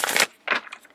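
Tarot cards shuffled by hand in two quick riffling bursts, crisp papery flutters close up with a short pause between them.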